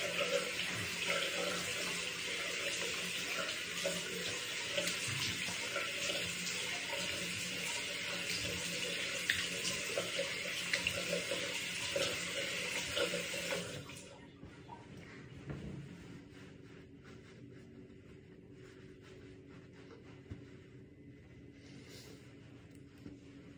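Water runs steadily from a tap for about fourteen seconds during washing, loud and continuous, then cuts off, leaving quieter room sound with small splashes and handling noises.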